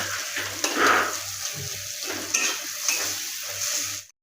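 Goat brain and poppy seed curry being stir-fried in a pan, with a steady sizzle and repeated scraping strokes of the spatula, close and fairly loud, with a low hum underneath.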